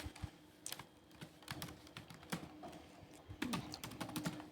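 Rapid, irregular keystrokes on a computer keyboard while typing a sentence into Microsoft Word, quiet and close with clustered clicks and brief pauses, no talking.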